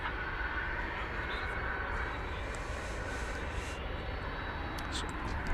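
An American Airlines jet departing runway 18 left at DFW makes a steady broad engine roar at a distance, with a radio voice heard over it.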